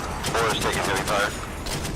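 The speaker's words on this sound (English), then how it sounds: "Boar's taking heavy fire." Heavy bursts of gunfire crackle in the DCS World combat sim during an attack on a technical with RPG fire, with rapid sharp reports under radio-style voices talking.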